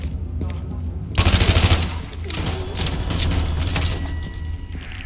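Rapid automatic gunfire in The Division, firing at a chandelier, sounds as a loud close burst of rattling shots over a steady low game hum, with scattered impacts and debris clatter afterward.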